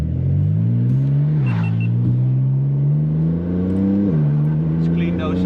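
A car under launch control accelerates flat out through a tunnel, the engine rising in pitch with two short drops at upshifts, loud, close and reverberant, with no voices.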